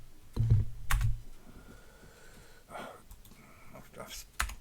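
Close clicking on a computer keyboard, with bursts of typing, a few sharper key taps spread across the clip, and some breathy sounds in between.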